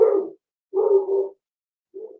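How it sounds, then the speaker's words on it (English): Dogs bark in three short, fairly loud bursts nearby, separated by silent gaps, with no other sound in between. "Okay, those are my dogs."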